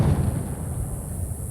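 A sonic boom from a plane breaking the sound barrier rumbles as a deep, sustained low roar that fades gradually, loud and heavy with no voices.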